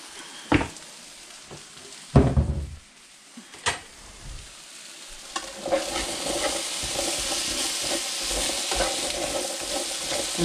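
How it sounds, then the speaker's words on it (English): Potatoes frying in olive oil in a pan, stirred with a few distinct scraping knocks early on, then settling into a steady, close, broadband sizzle that continues to the end. "And then I'll give them a good stir to get some of that oil spread around."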